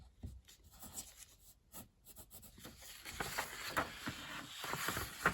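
A pencil drawn across an exposure sheet for hand-drawn animation, giving a soft, continuous scratchy rub on paper that grows steadier and a little louder as the line is pulled along, heard close and alone.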